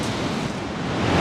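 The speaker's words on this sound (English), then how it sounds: "lots of big waves, which is rather nice" Big ocean waves break and roll on the Northumberland coast on a bright day, a loud, continuous roar of surf with wind buffeting the microphone and no voices.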